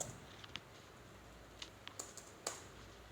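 Sharp, irregular key clicks from someone typing code on a computer keyboard, a handful of distinct taps spread across a few seconds over a quiet room hiss.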